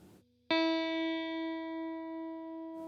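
A guitar's thin high E string plucked once, ringing out clearly with a long, slowly fading sustain after a brief murmur of voice.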